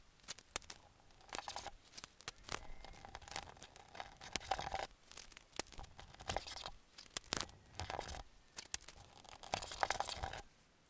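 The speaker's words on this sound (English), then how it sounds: "I do have to tape up the areas of where the current badge is so I know where to put the new badge in the exact place" Masking tape torn from the roll and pressed around the Z06 badge on a C6 Corvette, giving repeated sharp ripping and crinkling bursts in an irregular rhythm, close and fairly quiet, with no talking.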